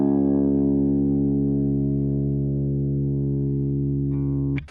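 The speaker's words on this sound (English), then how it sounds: "your low E string is tuned all the way down to a C sharp" A guitar's low string detuned to C sharp rings as a single deep, sustained note with a distorted, effects-laden tone, holding steady for several seconds before being cut off with a brief scrape; no speech.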